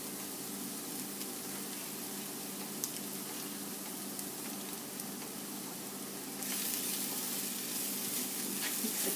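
Kale and spinach cooking in a hot pan for a vegetarian pizza topping, a steady close sizzle that continues evenly and grows slightly brighter and louder near the end.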